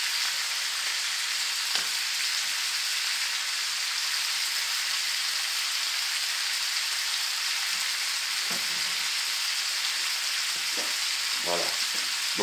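Venison pieces for a homemade sauté fry steadily in a pan with a continuous bright sizzle, broken now and then by short scraping stirs toward the end.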